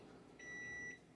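A kitchen timer for baking rolls sounds one steady electronic beep, a bright sustained tone lasting about half a second, close and clear over a quiet room.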